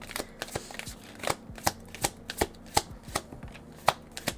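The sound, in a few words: tarot cards being shuffled and handled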